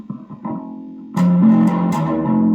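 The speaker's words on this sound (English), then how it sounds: "That's the thing where I'd rather have distortion" A Ken Rose bass in B-E-A-D tuning played through a distortion effect: a softer clean note at first, then a loud, buzzing, gritty sustained tone with scraping attacks, close and alone without talk.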